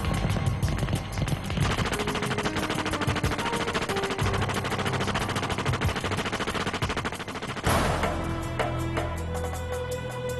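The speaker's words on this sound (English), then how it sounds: "the Maxim heavy machine gun" Maxim heavy machine gun firing in long sustained bursts, a dense rapid rattle of shots that fills the whole stretch, with a brief break near the end before firing resumes, loud and close with no talk.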